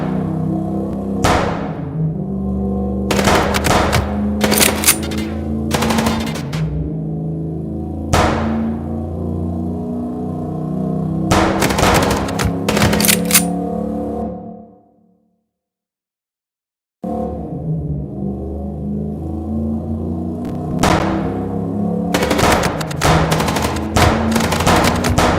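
Gunfire in the video game Chicken Police, repeated bursts of rapid shots with a rumbling score between them, a brief total silence midway, then the shooting resumes.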